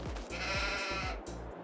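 Sheep in a video game bleat in quick succession, several stacked close bleats from a large flock penned together, loud and clear with no talk.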